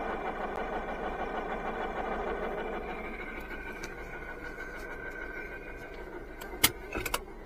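A loud, steady grinding whine from a car's noisy clutch as the pedal is held down to shift gears, droning on and slowly easing, with a few sharp clicks and clunks near the end.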